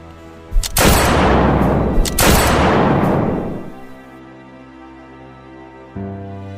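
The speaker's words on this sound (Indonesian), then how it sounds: "dengan cepat segera menembak kedua tentara itu" Two loud gunshot effects ring out in a stage drama about Palestine at a school language-month event. Each blast is followed by a long reverberant decay, then near-silence with a faint low hum.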